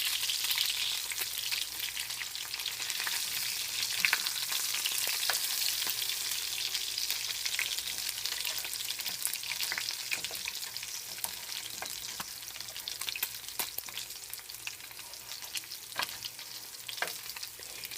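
Fish puppies, cornbread batter with fish, frying in a pan of hot oil, a steady close sizzle with scattered crackles and pops throughout, no voices.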